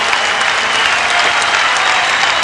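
About 21,000 spectators at the Sydney Sports Ground applaud the Socceroos, a dense, continuous roar of clapping and crowd noise that stays loud and steady throughout.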